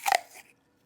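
One sharp, close crunch of a bite into a big crunchy apple, followed by a brief softer crackle as it breaks, then quiet.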